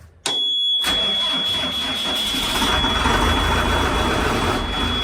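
Farm vehicle engine cranks and catches with a sudden burst, then settles into a steady, close, rumbling idle with a constant high whine over it.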